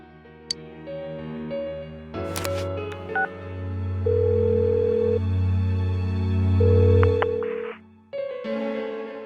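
Phone dialing sounds from the Persona 4 Golden video game: a run of clear electronic keypad tones and steady sustained tones, then a pause and a further ringing tone, loud and alone with no voices.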